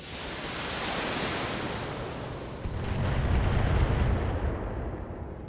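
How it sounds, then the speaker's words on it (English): Heavy weapons fire in the BattleTech video game, a dense continuous roaring barrage that swells louder and deeper about halfway through, with no voices. "They're shooting at me!"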